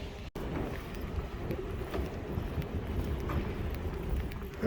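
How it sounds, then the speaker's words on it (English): Steady wind buffeting outdoors at a fair, a continuous low rumble of gusts against the microphone with faint background activity, no one speaking. "Oh, now it's getting breezy."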